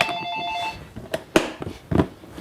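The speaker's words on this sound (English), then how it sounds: "the phone is going, but we're going to ignore it" A telephone ringing in a kitchen during chocolate making: a brief electronic trill at the start, fairly faint, followed by clattering and handling noises.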